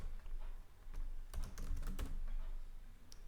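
Rapid clicking of a computer keyboard as a category description is typed, close and fairly quiet, in uneven bursts of keystrokes with short pauses.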